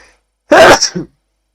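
A single sharp sneeze, close and loud, with a quick inhale-burst shape and then silence.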